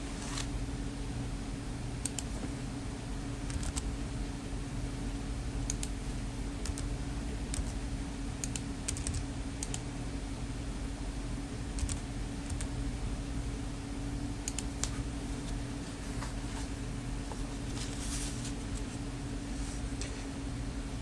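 Keys on a computer keyboard click in sparse, irregular taps as spreadsheet data is typed in, faint over a constant background hum and hiss, with no talking.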